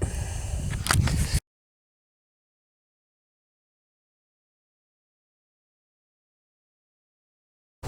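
A single-lens reflex camera shutter clicking once at close range, a short burst of mechanical noise followed by total silence.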